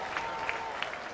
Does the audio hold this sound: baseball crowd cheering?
yes